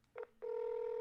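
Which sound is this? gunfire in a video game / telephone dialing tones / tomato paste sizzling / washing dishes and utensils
telephone dialing tones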